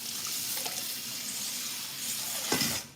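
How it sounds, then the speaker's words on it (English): Cold water running and splashing steadily into a pot of washed rice in a home kitchen, a continuous bright pour that swells toward the end before cutting off. "And now I'll add a little bit of cold water as necessary."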